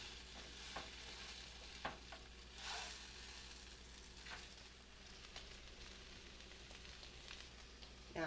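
Keto egg foo young patties fry in a pan after being flipped, a constant soft sizzle with light crackles and occasional scraping or stirring clicks, close and fairly quiet, no talking.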